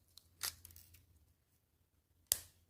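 Scissors snip off the excess yarn ends on a crocheted amigurumi doll body, two quiet, close cuts about two seconds apart with a near-silent pause between them.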